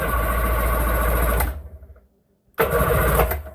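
A 1997 Sea-Doo GTX personal watercraft engine cranks and runs loudly, cuts out to near silence for about a second, then roars back up close.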